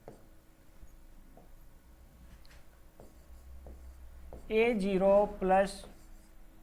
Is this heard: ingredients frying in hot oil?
no